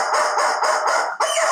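A rubber chicken squawks loudly and close, a squeezed, nasal honking cry in a few pulsing bursts with one short gap near the end, heard on its own without talk.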